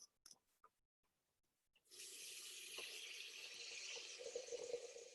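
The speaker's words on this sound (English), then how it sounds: "I'm just going to add water, just enough to cover the blade" Tap water runs steadily into a Thermomix bowl to cover the blade for a pre-clean, a continuous near hiss of filling after a few light clinks and taps at the start.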